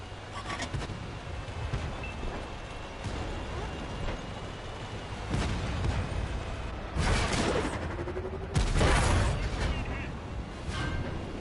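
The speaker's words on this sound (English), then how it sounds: "Artillery trying to finish us off." Artillery shells land in a World of Tanks battle, a series of heavy booms and broadband bursts that grow louder toward the end, rising over a steady engine rumble and background battle noise.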